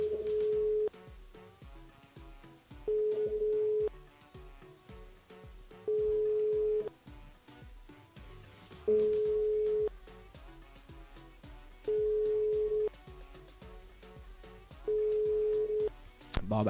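Repeated telephone ringback tones in an unanswered call, about six evenly spaced tone bursts roughly every three seconds, with other sounds and faint voices underneath.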